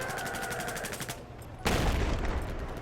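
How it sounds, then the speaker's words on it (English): A cruise missile blast in the Battlefield 4 shooter game, a heavy booming roar that swells up after a stretch of rapid rattling gunfire, loud and close. "Whoa, that was a cruise missile."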